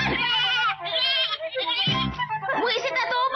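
A sheep in an animated Tagalog-dubbed show bleats loudly and repeatedly in wavering, nasal cries, close up and dominating the moment.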